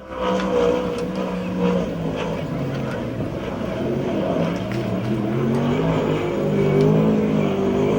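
The 14 sprint car in USAC/CRA sprint car racing at Perris, California, with a loud, continuous engine roar that rises and falls in pitch as it laps the track, steady throughout.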